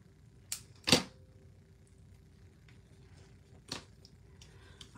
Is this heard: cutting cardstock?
yes